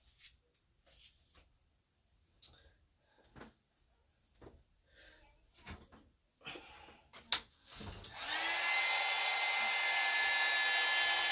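Scattered handling taps and rustles give way to a hair dryer switching on and blowing steadily at the end, drying adhesive on a craft stick.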